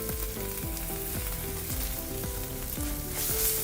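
Coarsely pounded ginger and green chilli frying in hot oil for an aloo matar kachori filling, a steady close sizzle with repeated stirring scrapes in a regular rhythm throughout.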